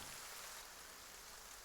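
Steady rain falls in a continuous soft hiss, filling the background evenly with no voices present.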